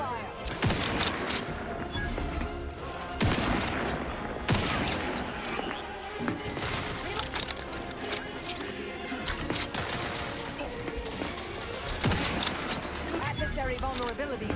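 Sustained gunfire and heavy combat blasts from The Outer Worlds 2, a sci-fi shooter game, rattling loudly and continuously through the whole stretch with bursts and booms layered over each other.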